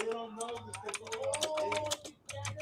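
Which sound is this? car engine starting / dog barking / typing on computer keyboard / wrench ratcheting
typing on computer keyboard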